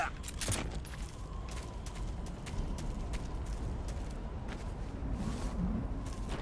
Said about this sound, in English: One burst from that machine gun could cut a man in half.